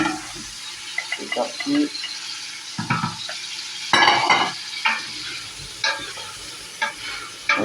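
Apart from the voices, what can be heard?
sausages frying in oil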